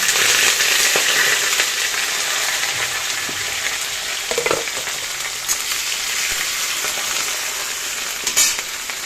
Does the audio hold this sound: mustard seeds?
yes